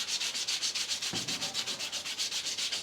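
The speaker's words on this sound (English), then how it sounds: "we'll come over with a 240 grit and we'll completely sand it and make it nice and smooth" Body filler being sanded by hand with 240 grit sandpaper, a close, even back-and-forth rasping stroke repeated about seven times per second, steady and alone without speech.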